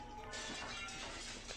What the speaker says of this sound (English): How is he smashing through glass?